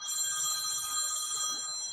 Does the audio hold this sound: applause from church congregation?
no